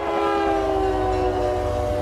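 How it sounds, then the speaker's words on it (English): Freight train heard from inside a boxcar: a steady, loud, droning rumble with sustained tonal screeching or groaning from the cars, continuous throughout with no voices. "This is what it sounds like inside the boxcar."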